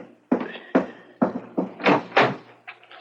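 Knocking at a front door in a radio drama: a series of about seven close, solid raps in an uneven rhythm, each with a short hollow ring, with no talking.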